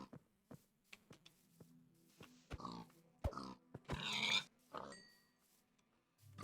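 Pigs grunt and oink in a Minecraft-style crafting game, several short snorting calls scattered among light footsteps and quiet pauses, fairly faint and without talk.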